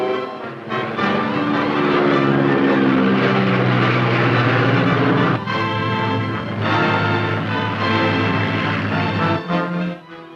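A GM Eastern Aircraft Wildcat, a stubby-winged carrier-based Navy fighter plane, roars loudly and continuously with a droning propeller engine, steady harmonic tones holding throughout with slight dips near the middle and end.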